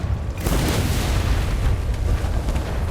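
A powder-charge explosion in Flintlock: The Siege of Dawn bursts loud and close with a deep boom, then a heavy low rumble and debris crackle that lingers for a few seconds, with no talking.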